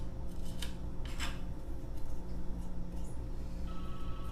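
A knife cuts a bruised spot out of a thick aloe vera leaf: close, crisp slicing and scraping strokes, a couple of sharper cuts early on, over a steady low background hum.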